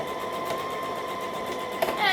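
A sewing machine stitches and back stitches a dress seam with a close, steady mechanical whirr. A faint voice sounds under it, and a short click comes near the end.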